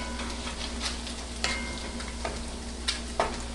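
Freshly fried homemade chips drain in a paper-towel-lined bowl, still hissing and crackling steadily from the hot oil, with a few sharp clicks as they settle and shift.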